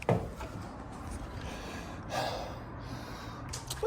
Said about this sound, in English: I just gotta breathe.